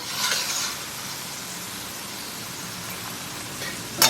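A batch of Belgian fries cooking in hot oil, giving a steady hissing sizzle that is briefly louder at the start and ends with a short clatter.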